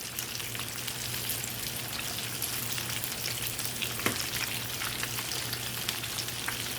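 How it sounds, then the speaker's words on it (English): Stuffed banana peppers filled with crabmeat fry in a pan with a steady, dense sizzle of hot oil, close and continuous, with a faint low hum underneath and one brief sharper crackle partway through. "So I'm just rotating them around in my pan."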